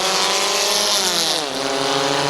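Race cars accelerate together off the green flag for a heat race at Midvale Speedway, a loud, steady engine roar with pitch climbing and shifting as the pack pulls away.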